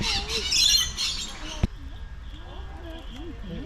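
A parrot squawks in harsh, loud bursts at the start, then gives softer chirps and whistles, with an outdoor din and a single sharp knock partway through.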